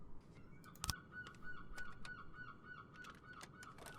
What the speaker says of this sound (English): Shut up, birds!